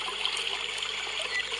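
Fast, heavy river current rushing over rocks in a wide, shallow rural river, a steady dense hiss of flowing water with no pauses and no voices.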